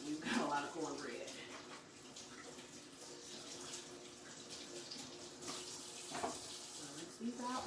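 Tap water running into a sink while items are rinsed at a live seafood boil, a faint continuous splashing stream with small clinks, quiet and close under a voice talking.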